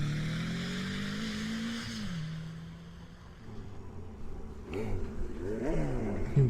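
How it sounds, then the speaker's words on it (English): A motorcycle engine in Tomb Raider idles and then revs in sharp bursts, pitch climbing and dropping repeatedly, loud and close with no talk over it. "thank God they didn't take my motorcycle"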